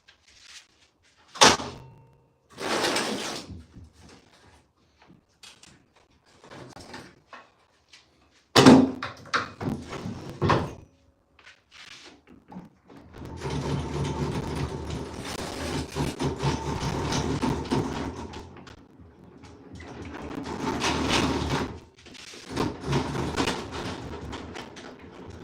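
A wooden door being handled and carried indoors during carpentry repair work: sharp knocks and thuds, a few loud bumps, then sustained scraping and shuffling handling noise, close by with no talk.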